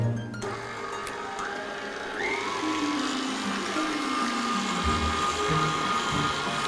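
An electric mixer beats eggs into batter, a continuous whirring motor with changing pitch and occasional clatter against the bowl.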